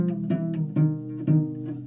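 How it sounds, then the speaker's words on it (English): Cello A string bowed while its peg is turned to loosen it, a sustained low bowed tone with repeated re-articulations as the pitch sags, close and alone. "So I'm gonna turn the peg towards me and it's gonna sound like this."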